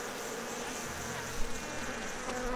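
Bees in the LOTRO video game buzz around beehives, making a continuous soft droning hum of several insects. The buzzing holds steady and slightly swells at moments, with no talking.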